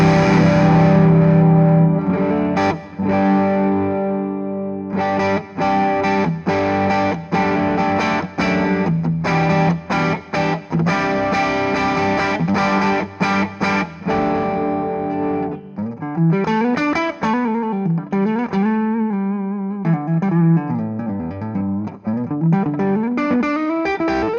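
Gibson Les Paul Standard played through its neck pickup with heavy distortion and chorus-like effects, loud sustained chords and single notes ringing out, then a bending, wavering lead line after the volume knob is rolled back.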